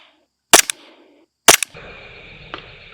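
An airsoft Glock with a max hop-up fires at a target twice, each a sharp, loud snap with a quick echo about a second apart, followed by a faint later tap.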